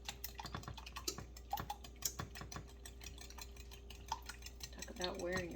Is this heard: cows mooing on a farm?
no